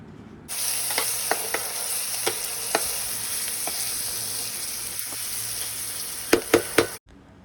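Cheese, spring onion and egg bhurji frying in a pan, a steady loud sizzle throughout with several sharp spatula scrapes and taps from stirring, ending abruptly.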